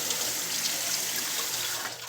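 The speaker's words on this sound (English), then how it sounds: "while those are draining" Water runs in a continuous splashing stream as soaked black beans drain in a kitchen sink, steady and fairly close with no talking.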